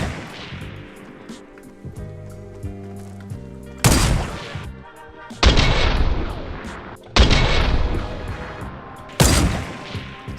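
Four heavy booming sniper rifle shots in a video game, each a sharp loud crack with a long decaying tail, spaced a couple of seconds apart over quieter game ambience.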